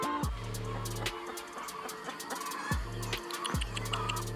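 Farm hens clucking near a henhouse: several sharp bursts of clucking and squawks over a steady background, fairly close, with no speech.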